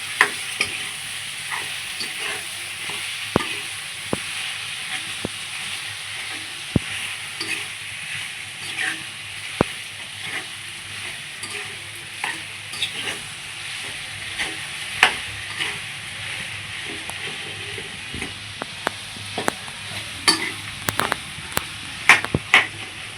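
Cut potatoes frying in a pan for puri bhaji, a continuous moderate sizzle broken by frequent sharp scrapes and taps of stirring, with no voices.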